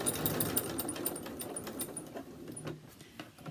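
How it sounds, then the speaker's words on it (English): A sewing machine runs steadily, stitching around the edges of small fabric facemask ear savers, with a busy rhythmic mechanical whirr that holds close and fairly loud before easing slightly toward the end. "A little back stitch, and then just sew all the way around."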